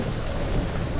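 A dense, steady roar of heavy rain and storm noise in Marvel's Guardians of the Galaxy, a continuous broadband wash with no distinct breaks, loud and close throughout a brief moment.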